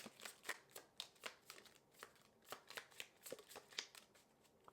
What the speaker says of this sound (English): I'm going to just shuffle.